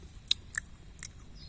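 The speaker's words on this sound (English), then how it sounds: "I have to chew the seed together with the shell." Shell and seed of an Araucaria columnaris pine cone crunched between the teeth in a New Caledonia pine grove: three or four sharp, quiet crunches spaced apart over a low background hum.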